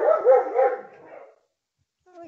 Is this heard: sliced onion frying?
no